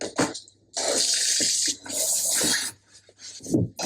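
Running water hisses in several bursts separated by short pauses, with faint thumps and movement between, close and fairly loud, as from a shower being used.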